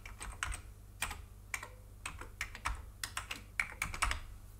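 Keystrokes on an Amiga 1200 computer keyboard come in quick irregular bursts of clicks, close and distinct, with short pauses between runs over a low steady hum.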